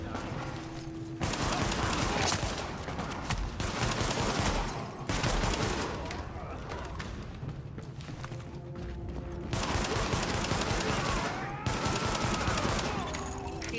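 Heavy gunfire from a rooftop gunner erupts in repeated rapid bursts in The Division, loud and close, separated by brief lulls.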